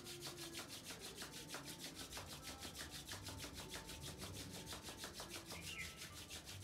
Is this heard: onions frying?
no